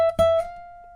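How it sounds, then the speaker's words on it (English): A single note plucked on the second string of a fingerstyle acoustic guitar, then slid up to the 18th fret, where a bright, clear tone rings on alone and slowly fades over about a second. "slide up to the 18th fret of the 2nd string, which will sound like this."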